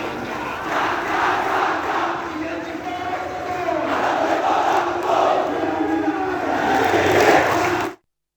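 A crowd at a protest march chants anti-terror slogans in unison, a loud, sustained mass of voices swelling and surging rhythmically before cutting off abruptly.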